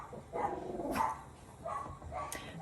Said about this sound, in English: the dog's having a heyday.